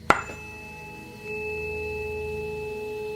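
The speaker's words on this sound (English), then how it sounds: "using these tuning forks that would make sounds like this" A tuning fork tuned to note A is struck once with a sharp attack, then rings on as a steady pure tone that swells slightly midway and sustains quietly to the end.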